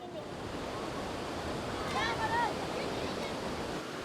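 Huge sea waves surging against the coast at Bargny, Senegal, a continuous loud roar of surf mixed with wind rumble, with a brief voice audible partway through.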